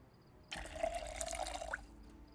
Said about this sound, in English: Let's just transfer some of this water from here to here.